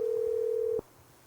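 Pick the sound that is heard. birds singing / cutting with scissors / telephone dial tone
telephone dial tone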